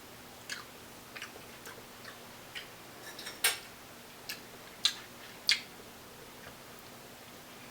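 Someone chews homemade honey butter made with Parkay, faint soft clicks and smacks at an uneven pace against quiet background hiss, with several sharper mouth snaps standing out.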